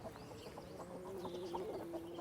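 Hens cluck softly and continuously on a 1900s-style British farm in late October, a steady low murmur of fowl sounds with no talking.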